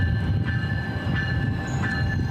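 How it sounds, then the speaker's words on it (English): GO commuter train arriving in Stratford, a steady loud rumble with faint high wheel squeals through the whole stretch, no voices. "GO trains arrived in Stratford yesterday for the first time in years."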